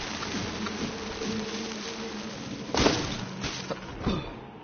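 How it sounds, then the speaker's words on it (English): Bees or wasps buzz steadily in the game Robinson: The Journey, a close, droning hum with a few louder swells as insects pass near, heard alone without speech. "Do you think they are bees or wasps?"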